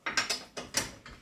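A hand ratchet tightens the lug nuts on a car wheel during a tire change, giving five quick, crisp clicking bursts in an uneven rhythm, close and fairly quiet, with no talk.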